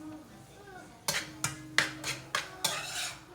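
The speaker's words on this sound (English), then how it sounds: "And you're gonna give all of that a good mix as well." Seasonings and bouillon being stirred into tomato sauce in a pot, a series of about six sharp spoon knocks and scrapes against the pot after a quiet start, close and distinct.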